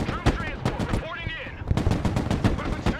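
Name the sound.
gunfire in the video game Broken Arrow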